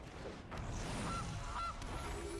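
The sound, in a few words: goose honking in the MTG Arena video game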